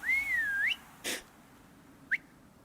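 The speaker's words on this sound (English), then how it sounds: "new ability to whistle to your animal" A short melodic whistle to summon an animal in the video game Icarus sweeps up and down, followed by a soft breathy noise and a brief chirp, fairly faint against a quiet background.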